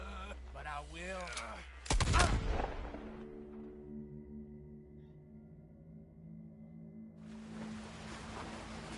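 A single heavy gunshot cracks in Red Dead Redemption 2, loud and close, with a long ringing tail fading into low droning game ambience.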